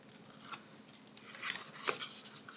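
Backing is peeled off tear tape for a Christmas treat box, giving a few close, crisp rasping and crinkling bursts of paper and film over a quiet background, with no voices.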